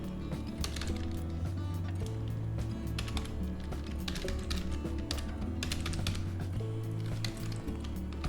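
Someone typing a file name on a computer keyboard: a quick, fairly faint run of key clicks, close by and steady, with short pauses between bursts.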